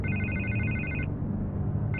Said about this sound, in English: I can't get the phone to stop ringing.